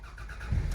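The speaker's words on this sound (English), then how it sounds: "I might help if I turned on my car" A car engine turns over and catches in a brief, low, steady rumble that swells slightly toward the end, heard up close with no voices.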